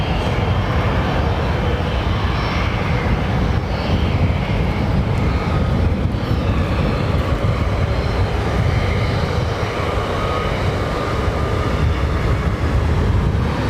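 An airliner landing at London Heathrow Airport, its engines producing a steady, loud broadband roar with whining tones that continues without a break.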